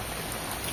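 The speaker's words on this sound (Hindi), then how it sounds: "एबे देखंतु केते जोर वर्षा होउची" Heavy rain pours down in a dense, steady hiss of drops striking surfaces, loud and continuous for a brief moment.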